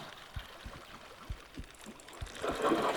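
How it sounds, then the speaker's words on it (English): A hooked trophy walleye's heartbeat in Bassmaster Fishing 2022, set on Lake Hamilton: soft low thumps in a steady pulse, roughly three a second, over faint water, with a rushing splash swelling at the end. "And it's got a heartbeat, so it's trophy, at least."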